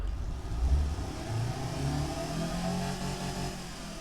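A 2-liter car engine in the game Automation runs at a steady mid-pitched drone, with a slight rev near the start and then an even, sustained hum throughout.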